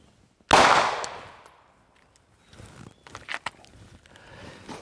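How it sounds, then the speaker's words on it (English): A single sharp pistol shot cracks loudly and decays over about a second, followed by quieter shuffling and clattering noises. "we fired another shot"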